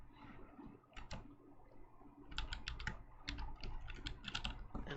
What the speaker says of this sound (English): I'll just type out again